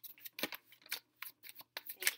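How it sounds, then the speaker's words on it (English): Tarot cards being shuffled by hand in a series of quick riffling bursts, close and fairly crisp, separated by short pauses, with no talking. "Make sure we shuffle the cards pretty well"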